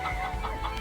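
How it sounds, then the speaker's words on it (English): Chickens cluck at a chicken farm in the video game Laysara: Summit Kingdom, short repeated clucks over a steady, dense ambient game background, moderately loud. "Chicken farm is now producing eggs"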